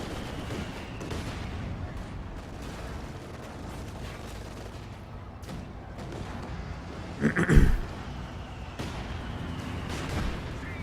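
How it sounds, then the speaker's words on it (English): A Sherman Firefly's 17-pounder tank gun fires once in a video game: a single loud, sharp blast cuts through a steady rumble of battle ambience. "There goes the 222 to the big gun of a 17-pounder on a Sherman Firefly"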